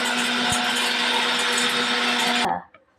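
Kitchen mixer grinder whirring at high speed as it pulverizes dry baby food ingredients into fine powder, a loud continuous motor whine with a faint thump early on, then cutting off abruptly and spinning down to near silence.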